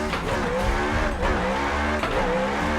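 Drift car in the racing game Assetto Corsa, its tires squealing continuously in long wavering howls over a steady, loud engine drone, sliding through corners without a break.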